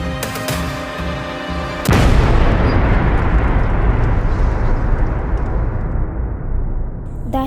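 A bomb explosion erupts suddenly after a short stretch of tense music, a loud booming blast followed by a long rumbling roar that slowly fades out.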